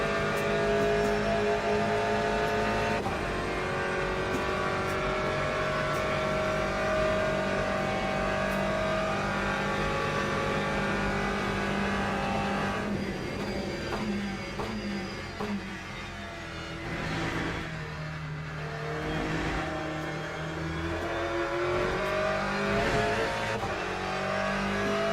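An Aston Martin GTE race car engine in Le Mans Ultimate drones loudly and continuously, its pitch rising and falling through gear shifts, with brief dips where the revs drop before climbing again.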